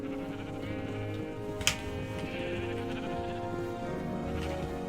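Sheep bleating in the Minecraft video game, a single short bleat over a steady bed of background game music and ambience, with no talking.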